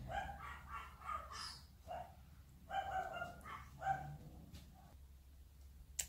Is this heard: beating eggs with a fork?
no